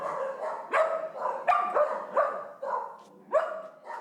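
Dogs bark at the grand opening of the Pet Alliance's new animal shelter on South John Young Parkway, with about half a dozen sharp, close barks and yips coming in uneven bursts.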